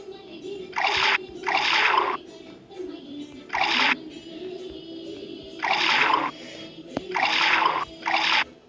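Liquid pours in a mobile puzzle game in six splashy, gurgling bursts of about a second each, separated by short pauses over a faint steady hum.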